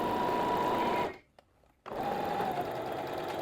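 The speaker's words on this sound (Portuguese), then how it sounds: "Vou tirando os alfinetes devagarzinho e vou costurando" A sewing machine stitches through three layers of fabric with a steady, close, high-pitched whirr, stops abruptly for under a second, then starts up again at the same even speed.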